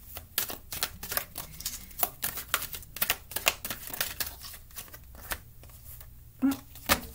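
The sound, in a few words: Angel Answer Oracle cards being shuffled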